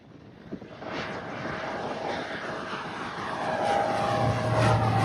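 A propeller airplane passes overhead, its drone swelling steadily louder toward the end, heard alone without voices.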